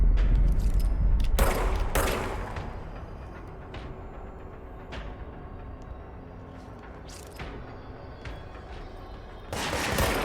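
Enemy gunfire in the video game Control comes as a few sharp, loud bursts at the start and again near the end, with scattered single shots between them over a low, rumbling game background.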